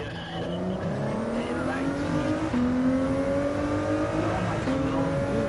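Race cars roar in Gran Turismo 7 on PS5, engines droning steadily with rising and shifting revs and tire squeal, loud and continuous.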